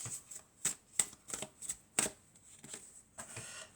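Oracle cards being shuffled by hand, a series of quiet, crisp riffling bursts in an irregular rhythm, close up and alone with no talking.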